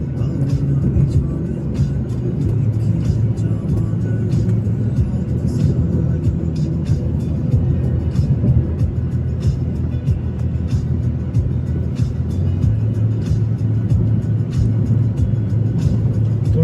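A car drives along the NH4 road in Middle Andaman, its engine and tyre rumble steady and loud from inside the cabin, with faint ticking and rattles over a constant low drone.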